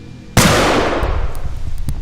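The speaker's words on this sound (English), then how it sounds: "A gunshot echoed from across the school" A single sharp gunshot cracks out loud and close, then rings away in a long, fading echo with faint clatter trailing behind.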